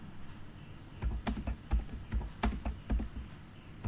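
A computer keyboard being typed on at close range, a short run of irregular clicking keystrokes, moderately loud with no talk.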